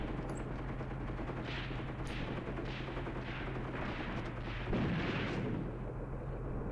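Gunfire in Graviteam Tactics, a WWII tactical war game: a steady rumbling battle bed with a series of roughly regular muffled shots, about one per second, and a heavier boom near the end, continuous and fairly loud throughout.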